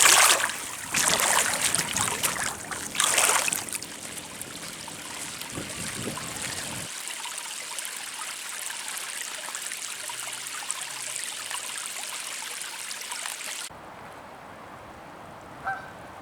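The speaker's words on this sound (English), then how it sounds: "Very relaxing, wading in the river." Wading through the shallow water of the River Thames, with broadband splashing and trickling that is loud in the opening seconds and then settles into a steady, softer flow until it drops away near the end.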